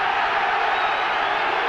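A stadium crowd roars without a break at the Neath versus New Zealand rugby match in 1989. The cheering is a loud, dense wash with no separate claps or voices standing out.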